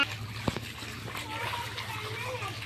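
Water splashes and sloshes around an adult wading through knee-deep flood water with a child carried on his shoulders, a soft steady churning close by while a child and adults chatter over it.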